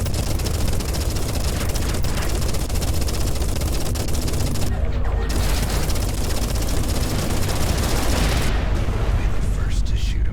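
Spaceship weapons fire in the space-combat video game Everspace 2: dense, continuous volleys of loud blasts and explosions, with the barrage pausing only briefly.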